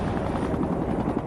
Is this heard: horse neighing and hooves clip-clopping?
no